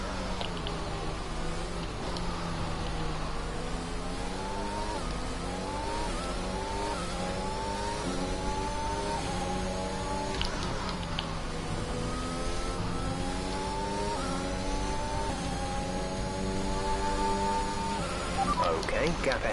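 Race car engine in a video game on the final lap, a steady mid-pitched drone with rising and falling revs through gear changes, loud and continuous under a voice speaking throughout.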